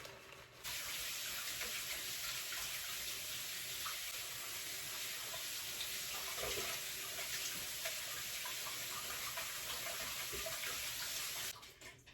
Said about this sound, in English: so that I can wash my rice